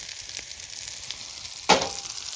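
Campfire burning in a small contained fire area at a windy canoe campsite, a steady crackling hiss with one sharp louder pop near the end, no talking.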